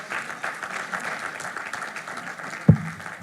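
A church audience applauds four volunteers, a steady wash of clapping throughout with one sharp thump near the end.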